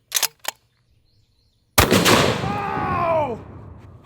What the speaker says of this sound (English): This is a 750 grain A-square dead tough bullet, and I'm going to send it right at Mr. T-Rex.